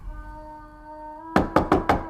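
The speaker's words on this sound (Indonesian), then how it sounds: "Saat sang ibu mengetuk pintu tidur kamar Aziza" Four quick knocks rap on a bedroom door, sharp and close, following a quiet stretch with a faint steady tone; no one speaks.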